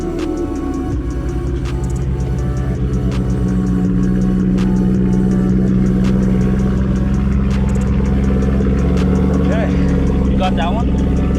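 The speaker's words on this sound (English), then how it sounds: "we're gonna start out right now with me driving my 335" A BMW 335i with a built single-turbo setup runs steadily under way, its engine a loud, continuous low drone with road noise throughout, and a voice briefly audible beneath it.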